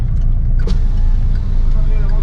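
A car idling and rolling slowly at the roadside, its low engine rumble steady and close, with no one talking over it.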